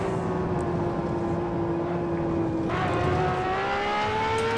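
Race car in Assetto Corsa braking hard into a slow right-hander: a steady engine whine that holds level, then shifts pitch as revs change on the downshift, continuous and moderately loud with no speech.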